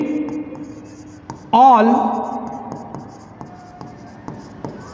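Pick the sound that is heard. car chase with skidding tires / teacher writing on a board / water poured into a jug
teacher writing on a board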